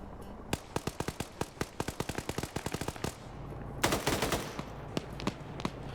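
Gunfire in a multiplayer military combat game: a long run of sharp, loud rifle and machine-gun shots with irregular spacing, then a denser crackling burst and a few scattered trailing shots, with no talking.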